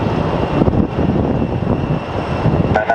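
An airliner being towed at Phoenix Sky Harbor airport, a steady loud engine drone and mechanical rumble filling the air, close and continuous, with a brief higher whine near the end.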